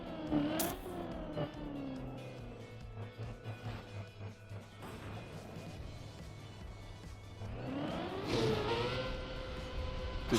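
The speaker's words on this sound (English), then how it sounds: "Okay, engine, turn on." A car engine starts up in a video game, with a steady low engine hum running through the middle and revving rising near the end, surrounded by other game noise and bursts of activity.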